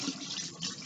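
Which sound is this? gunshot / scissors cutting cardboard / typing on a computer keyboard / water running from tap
water running from tap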